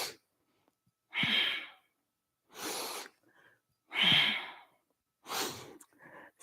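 Breathing during a Kundalini yoga movement sequence: four strong, airy breaths, alternating inhales and exhales, come close and clear at a steady rhythm, with silence between them and no talking.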